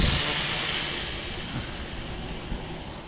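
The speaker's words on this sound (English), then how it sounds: "Hey, he's playing with a drone." A small Home Depot drone flies close to the camera, giving a steady, fairly loud whirring buzz that holds for the whole stretch with no talk.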